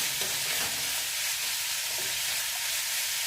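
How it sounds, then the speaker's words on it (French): Axoa basque with Bayonne ham is stirred in a pan, a close, steady sizzle with soft scraping from the spoon. "Ok, on va remélanger."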